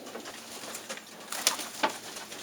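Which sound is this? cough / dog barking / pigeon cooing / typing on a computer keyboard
pigeon cooing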